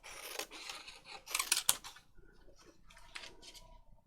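Scissors snip away part of a paper picture for a junk journal, a few short dry cuts and rustles close by, the strongest around the middle, then quieter paper handling.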